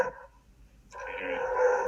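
A dog barks and growls at a distance, heard faintly through a phone call, with a short burst, a pause, then a longer, muffled stretch of sound.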